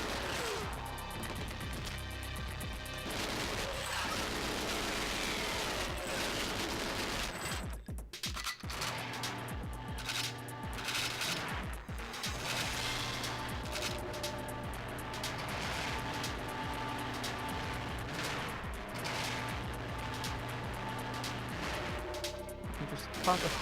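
Gunfire in the video game GoldenEye 007, repeated sharp shots and bursts amid continuous game sounds and music, dense and steady throughout, with someone talking over it.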